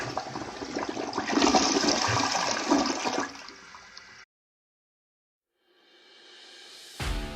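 A toilet flushes in a loud, rushing gush of water lasting several seconds, then cuts to silence before a fainter refill hiss and a sharp knock at the end.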